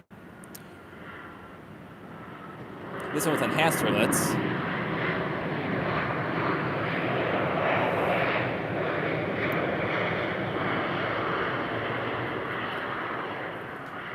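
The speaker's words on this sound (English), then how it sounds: "Here we have an American Eagle E-175." An American Eagle Embraer E-175 jet airliner roars at Minneapolis–St Paul airport in winter. The engine noise swells suddenly, then holds loud and steady for many seconds while someone talks over it.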